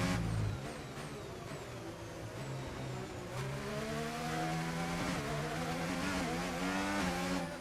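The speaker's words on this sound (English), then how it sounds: "Why does the gearbox sound sluggish? I think our gearbox ratios are not set up correctly." An F1 car in the F1 25 racing game revs hard through sluggish-sounding gear changes, its engine note climbing and dropping in steady sweeps, loud and continuous with no talking.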